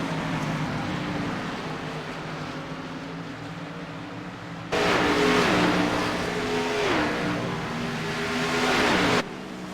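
Race cars in an iRacing sim race at the virtual Milwaukee Mile, engines droning steadily, then a louder pass with rising and falling engine pitch before dropping back.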